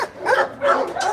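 Dogs bark at a South Korean dog meat farm, giving two close, loud yelping barks that break into whiny, high yips.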